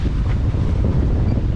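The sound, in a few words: wind on a sailboat heading upwind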